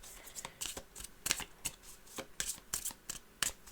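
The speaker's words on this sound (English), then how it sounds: "we're going to shuffle" A deck of Witchcraft! game cards being shuffled up close, a run of quick papery riffles and soft slaps in uneven bursts, with no one talking.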